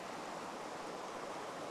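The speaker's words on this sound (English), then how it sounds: "we made it to Jenny Creek. She looks like she's flowing pretty good." Jenny Creek, a Colorado mountain stream running strong, rushes steadily as a constant broadband wash of water, near and unbroken with no voices.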